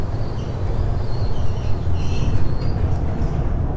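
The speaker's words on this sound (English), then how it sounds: "train will depart momentarily" A Miami Metromover automated train pulling away from a downtown Miami station, giving a steady loud low rumble of rolling wheels with faint high squeals throughout.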